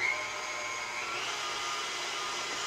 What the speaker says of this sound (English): Now I'm going to start my mixer running.